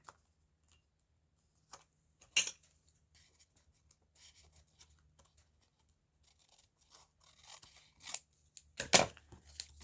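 Paper being snipped with scissors for a junk journal craft made from a cutlery sleeve, a few sharp isolated cuts early on and a denser burst of snipping near the end, close and otherwise quiet.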